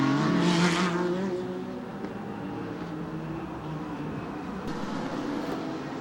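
Race cars roar past at the Camel GT street race in Miami, one engine note rising sharply at the start and then settling into a steady, distant drone of cars circling the street circuit.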